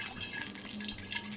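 Black currant wine must poured steadily into a funnel, a soft continuous liquid trickle and splash heard up close and fairly quiet.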